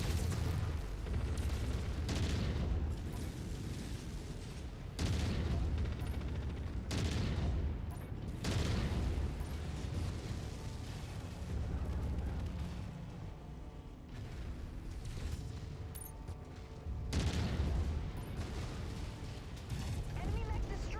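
Heavy mech weapons fire in the video game MechWarrior 5: Mercenaries, a dense, loud barrage of booming shots and mechanical clatter that runs continuously, with bursts surging at intervals and speech mixed in underneath.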